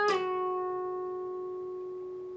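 One guitar note is picked sharply and slides down two frets to the 12th fret, then rings on alone, sustaining and gradually decaying.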